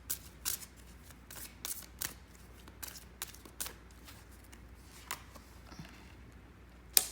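Tarot cards being shuffled by hand in irregular bursts of crisp riffling and flicking, close and fairly quiet, ending with a sharper snap.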